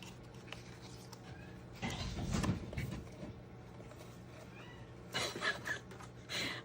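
A pet cat meows in a room, with a couple of louder drawn-out calls rising over a steady background hum, near and fairly clear.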